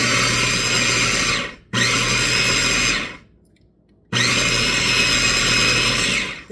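An electric twist-and-chop food chopper whirs loudly at a steady pitch while cutting tomatoes and basil, running in two long bursts with a short pause and a quiet gap before it starts again; no voices.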